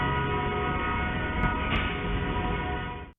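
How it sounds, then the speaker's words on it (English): A train emerges from darkness and approaches a level crossing just metres from the road, its steady rail rumble loud and close with a brief horn blast partway through before the sound cuts off abruptly. "A train approaching this level crossing is just metres from the road"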